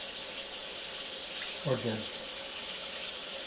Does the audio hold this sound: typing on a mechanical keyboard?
no